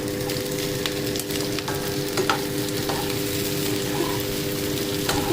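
Onions fry in a pan for chilli paneer, a steady, dense sizzle with occasional scraping clicks from the stirring, and no voices.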